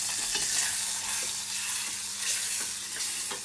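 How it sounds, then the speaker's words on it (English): Butter melts and sizzles in a frying pan during a kids' chocolate brownie cooking class, a steady close crackle and hiss with soft scraping as it is pushed around. "Start pushing it around. So you're really just melting the butter here"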